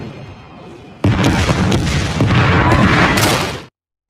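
Bombs burst onto enemy tank positions in a 2018 war film, a sudden heavy blast followed by a few seconds of rumbling, crackling explosions that then cut off abruptly.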